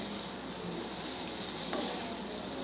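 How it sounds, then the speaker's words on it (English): Vegetables tossed in a pan with soya sauce, chili sauce and vinegar make a steady, loud sizzle that holds throughout, with a faint scrape partway. "All our vegetables are getting nicely tossed with all the sauces."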